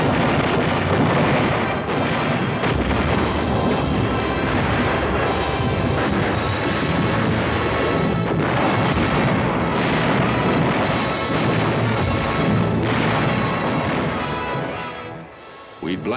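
Artillery barrage blasting at mountains during the WWII Battle of Salerno, 1943, booming and rumbling dense and loud with no letup, a continuous roar of explosions that fades near the end, with a voice heard over it.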